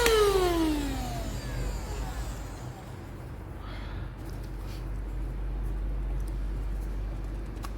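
Baseus car vacuum cleaner blowing air out through its nozzle, a steady whooshing hiss with a motor whine that spins down at the start, heard without speech.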